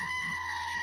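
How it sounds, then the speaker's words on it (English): A goat gives a short, loud, tonal scream that holds steady and sounds eerily human, lasting under a second. "Goats scream like humans, and it's fucking terrifying."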